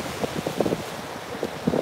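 Outdoor wind buffets a microphone in uneven rumbling gusts, with ocean waves washing faintly behind it and no voices.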